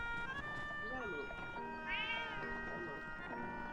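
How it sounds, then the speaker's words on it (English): A cat meows in the video game Zelda: Echoes of Wisdom, a short rising-falling call set against steady game music and ambient tones, with people talking over it. "Oh no, is that someone's cat?"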